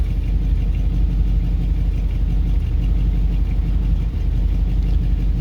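A Buick engine idles with a shake, a loud, close, steady low rumble with a faint rhythmic pulse that stays constant through the whole stretch.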